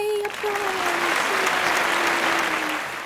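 Applause fills the whole stretch as a dense, steady wash, with a single drawn-out cheering voice running over it from start to finish.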